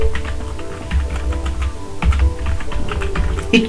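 Keys clatter on a computer keyboard in a steady run of close, crisp taps, with a few firmer strokes and a short pause in between, and no voice over them.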